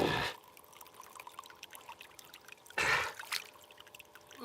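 Water sloshing in a gold pan held under water, two distinct splashy surges separated by a quieter stretch of gentle trickling and dripping.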